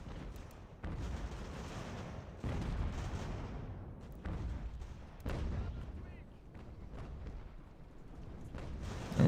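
Counter-battery artillery fire in Ultimate General: American Revolution during a winter battle, a series of repeated booming cannon shots spaced a second or two apart under a player's talk.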